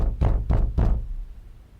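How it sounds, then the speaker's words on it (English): Three quick heavy knocks on a door in a detective video game, close and loud, then a short fading tail. "So flashing lights and somebody banging on the door."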